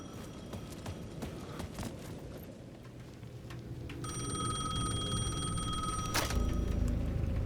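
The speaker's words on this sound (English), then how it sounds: "The payphone at the edge of the plaza was ringing again." A payphone at the edge of a plaza in Alan Wake 2 rings with a bright, electronic bell tone that starts midway through the clip and continues steadily over rustling, footstep-like background sounds.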